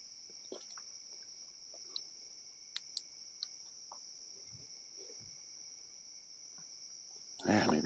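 Nighttime insects chirp in a steady, continuous high trill along a pitch-dark trail, with a few faint clicks and rustles, and a brief louder rustle at the end; no talking.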